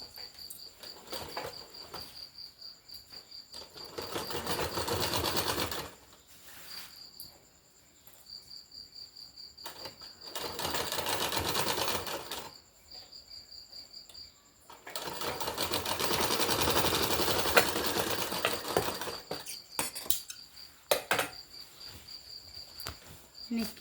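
A sewing machine stitches an umbrella kurti in several loud running bursts of rapid mechanical whirring, separated by quieter pauses, with a steady high insect-like chirping ambience throughout.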